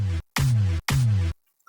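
A Cashmere big snare pitched up four semitones, from C to E, struck twice in quick succession, each hit loud and sustained with a stretched-sounding attack, then silence.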